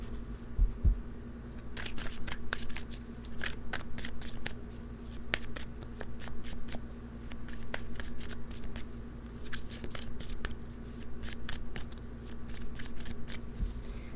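Tarot cards are shuffled and cut by hand, giving a long run of quick, crisp riffling bursts and dry paper flicks that come in clustered rhythms over a steady low room hum, close up and with no talking.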